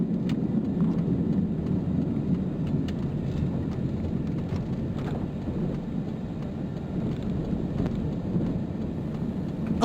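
A car drives across an old bridge, producing a continuous low rumbling road and engine roar with wind buffeting the microphone and a few faint clatters, no talking.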